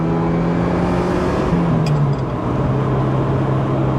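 A supercar engine drones loudly from inside the cabin, its steady pitch dipping smoothly through a gentle gear shift before settling at a lower hum, with brief faint clicks and no talking.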